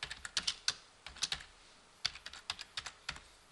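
Someone types on a computer keyboard in quick, uneven bursts of light clicks and taps, close and quiet, pausing briefly between short runs of keystrokes.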